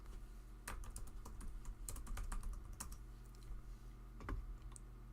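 Typing on a computer keyboard while playing a first-person dungeon crawler in RPG Maker: close, quiet irregular key clicks in bursts, with a brief pause and a few harder taps near the end.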